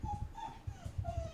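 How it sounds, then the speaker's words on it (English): A dog whimpers and cries in several thin, high, drawn-out whines, fairly close and moderately quiet, with soft snuffling sounds between them and no talking. "somebody's dog is crying"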